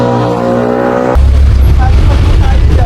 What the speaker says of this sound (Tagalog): Nakasakay na po kami ng jeep.